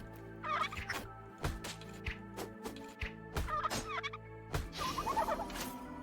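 A turkey in a video game gobbles repeatedly in warbling bursts, interspersed with sharp impact thuds over a constant low game drone.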